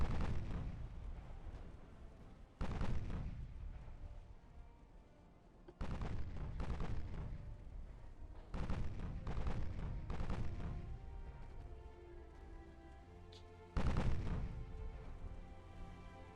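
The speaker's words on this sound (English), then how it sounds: "We might unleash a salvo at long range." Naval guns fire long-range salvos in Ultimate Admiral Dreadnoughts, a 1930s French fleet battle: four or five heavy booming blasts, each rolling off into a long rumbling tail, spaced several seconds apart and loud throughout.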